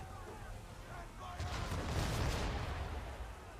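Gunfire in the video game Assassin's Creed 3: a single muffled, booming shot with a rolling tail at mid-clip, over a constant low ambient rumble.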